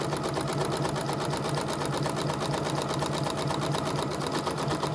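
A Janome electronic sewing machine stitches a one-step buttonhole, sewing its second side with a steady rapid mechanical whirr and fast regular needle clatter, loud and close, continuous with no talking.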